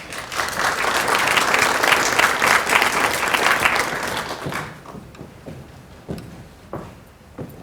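An audience at an evening investor panel event applauds to welcome a speaker, with dense, sustained clapping for several seconds that thins out into a few scattered claps and taps.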